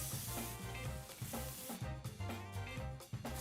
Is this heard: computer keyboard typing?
no